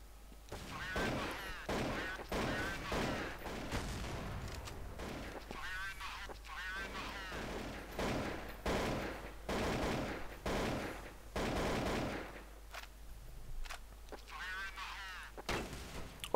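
Gunfire in a first-person shooter video game match: repeated sharp shots in bursts across the stretch, moderately loud, with a commentator talking over and between them.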